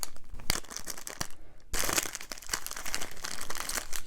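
Plastic coin flips crinkling and crackling as silver bullion rounds are worked free, a close, loud run of sharp crackles with a brief quiet gap partway through and no talking.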